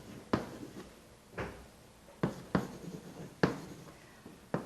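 Chalk or marker strokes from a teacher writing sentences on a board in a quiet classroom, six or seven short scraping bursts spaced irregularly, each fading quickly, close and moderately loud with no talking.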